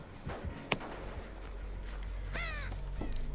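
A crow caws in the video game Dead by Daylight, a faint ambient bed broken by a few clicks and then one harsh, raspy caw near the end.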